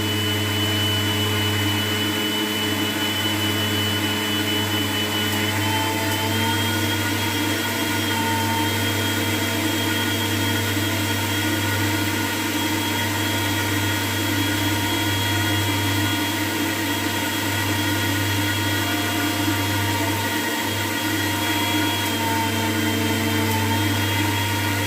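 A steady, loud electric grinder whirring as it grinds spices, a constant motor drone with a sustained low hum and no breaks for the whole stretch.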